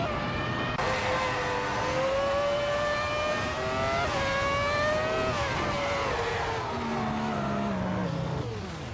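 Race cars circling a track in a racing video game, a loud sustained engine whine rising through gears, then dropping and sweeping downward near the end, with faint tire noise and no talking.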